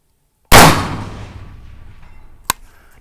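A loud rifle shot bursts out and decays, then about two seconds later a single sharp, faint metallic ping from the bullet striking a small steel square target downrange.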